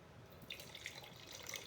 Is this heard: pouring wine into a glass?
yes